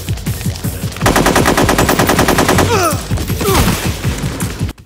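Rapid automatic gunfire in the PS2 stealth game Metal Gear Solid 3: Snake Eater, loud sustained bursts of shots with brief pauses and ricochet-like whistles, over game sounds.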